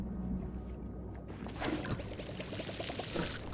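Water pouring and trickling from a watering can onto plants in the cozy life-sim game Palia, a soft splashing pour that starts partway through with light bubbly droplet sounds, under a faint steady background.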